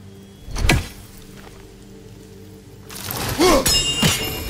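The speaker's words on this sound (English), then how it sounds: "Simply throw your axe and strike the chimes, and I will attend to your needs." A thrown axe striking hanging chimes in God of War Ragnarök: a sharp thud, then a few seconds later a burst of bright metallic ringing tones that shimmer and decay, with a second ring just after.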